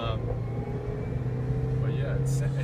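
A Toyota Corolla engine idles steadily just after an oil and transmission change, a low continuous hum and rumble sitting close by, with a voice talking over it.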